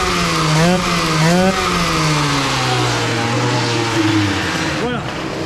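A Piaggio-style Airsal XT 77 scooter engine fitted with a Malossi reed valve revs hard, pitch climbing and dipping in repeated surges, loud and close, with a final sharp rev at the end.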